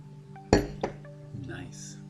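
A glass of red wine clinks sharply once, followed by a softer second clink, close by over a low steady hum, with faint voices and rustling afterward.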